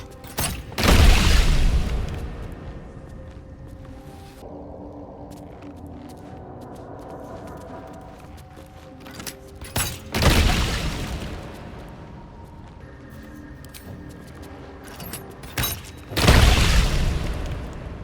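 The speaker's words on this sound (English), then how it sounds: "Yep, I'm just shooting these things." Gunfire at mushroom creatures in a fantasy video game set underground, heard as three heavy booming blasts spread far apart with quieter rumbling and mechanical clatter between them, no voices.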